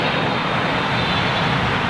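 A fixed-wing airliner lands on runway 27R at London Heathrow in windy conditions, its engine roar loud, close and steady throughout with broadband rushing noise and no speech.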